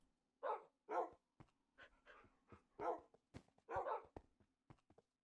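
Dogs in a Lucky Block challenge in a video game give a series of sharp barks, several loud yaps spaced irregularly over a few seconds with short clicks and panting between them.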